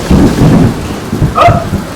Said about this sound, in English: Storm up ahead!